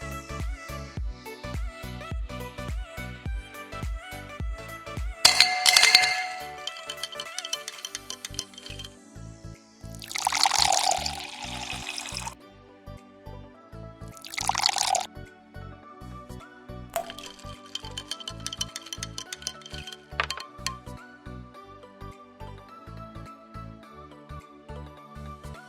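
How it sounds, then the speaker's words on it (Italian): Vodka and Kahlua coffee liqueur are poured into a glass and stirred, giving splashy pouring bursts and clinking over a steady backing of music. "Versare la vodka, unire con il liquore di caffè tipo Kahlua e mescolare delicatamente così da amalgamare i due liquori."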